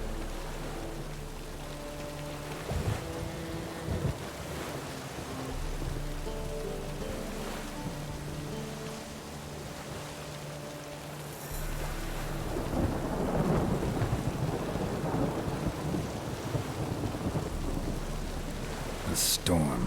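A thunderstorm with steady rain hisses throughout, with deep rolling thunder swelling in the second half, set in the fantasy world of the video game Witcher 3 under a layer of game music.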